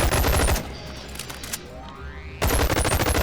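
A ranged weapon fitted with a flashlight sight fires in a video game, loud rapid bursts that bracket a brief lull and then resume.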